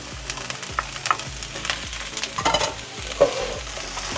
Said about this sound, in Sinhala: දැන් පොඩ්ඩක් කලවම් කරනවා.